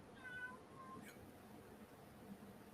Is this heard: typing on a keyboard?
no